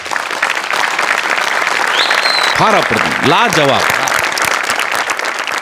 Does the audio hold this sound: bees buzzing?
no